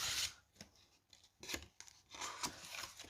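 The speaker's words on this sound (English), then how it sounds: "I'm just going to cut up to the line and notch it out on both sides." Scissors cut into paper up to a marked line and notch it out, a series of close, crisp snips and slicing strokes with short pauses between them.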